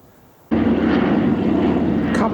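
Old RAF bombers fly low overhead, a loud, steady, droning engine roar that starts abruptly and stays strong throughout, with a voice faintly beneath it.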